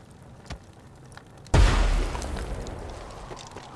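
A loud in-game explosion in the video game Guncho bursts suddenly after a quiet stretch with a faint earlier pop, then rumbles and decays into a sustained roar.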